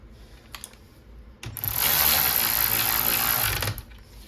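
A ratchet wrench tightening a nut on a Honda Civic seat mount, heard as a close, steady clicking and grinding run lasting about two seconds after a few faint ticks, with no talking.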